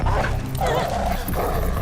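Two dogs barking and yipping in the video game Beyond Two Souls, a steady run of close, loud barks with a dense game soundtrack behind them.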